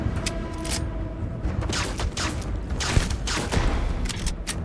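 Repeated gunfire from a disliked weapon in the video game Starfield, rapid shots crackling in uneven bursts under a busy, dense game soundscape, fairly loud throughout.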